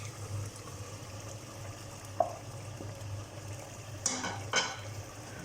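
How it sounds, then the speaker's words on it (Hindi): Mutton frying in ghee and olive oil with tomatoes in a pan gives a low, steady sizzle. Occasional utensil scrapes and clinks of a spoon against the pan rise above it, with no talking. "भुनना शुरू हो गया है। थोड़ा सा गोश्त हमने फ्राई कर लिया है"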